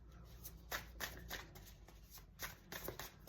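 Affirmation cards shuffled by hand, a series of soft, papery riffles and taps in an uneven rhythm, close and quiet with no talk.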